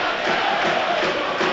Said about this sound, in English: Can they quieten the vociferous home crowd in the early stages of this game?